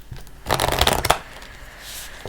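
A deck of angel oracle cards is shuffled close by in a quick riffling burst of papery flutter, followed by softer card handling.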